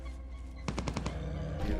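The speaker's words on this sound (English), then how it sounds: "Now we'll shoot him." Gunfire from a weapon in the online game Entropia Universe, fired at an approaching enemy: a rapid burst of about five sharp shots following a low background hum, with a lingering rumble after.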